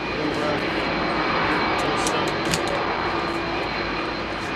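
A Virgin Atlantic aircraft at Heathrow Airport produces a steady, loud engine roar that holds throughout, while people talk over it.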